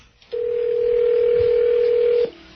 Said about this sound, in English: I'm dialing up the phone so you can talk to the hearing aid lady